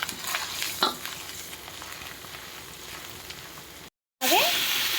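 Eggplant curry with turmeric frying in a pan and being stirred, a steady close sizzle with scraping strokes, briefly cut out near the end before resuming.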